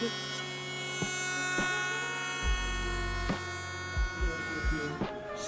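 A CNC machine routing a joint between two black gum burl wood slabs, giving a steady electric whine and hum with rhythmic low thumps as the cutter passes along the wood.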